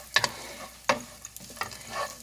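Cashews and almonds roasting in ghee in a pan, with a few stirring scrapes and soft sizzling bursts in a quiet kitchen, no talk.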